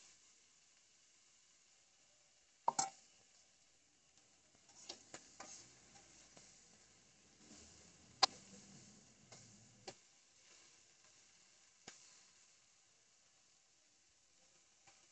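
Crabs fry in a pan, a faint low sizzle with scattered crackles and a few sharp clicks or taps of cookware, quiet and intermittent with no talking.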